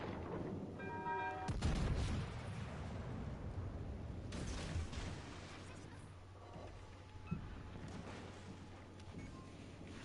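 Ship guns boom in a naval combat game, a heavy blast near the start followed by distant rumbling salvos and crackling impacts under a steady low battle drone.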